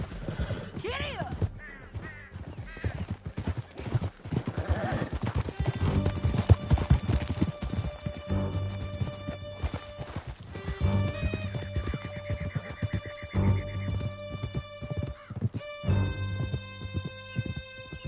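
Horses gallop hard through a canyon in Horizon Zero Dawn, a steady rush of clip-clopping hooves with occasional whinnies and shouts over a tense musical score.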